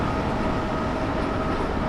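A train in Train Sim World 6 runs at speed, a dense, steady roar of wheels and engine heard from outside the train, loud and constant with no talk.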